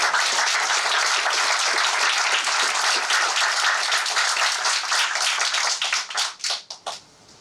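Audience applause welcoming Professor Judith Mackay to a health dialogue event, a loud, dense, steady crowd clapping that lasts several seconds, then thins into scattered individual claps and fades out, with no talking.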